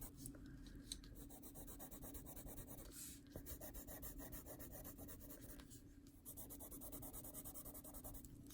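Watercolor pencil shading on paper, a steady dry scratchy rubbing with short pauses between strokes, close and quiet, with no talking.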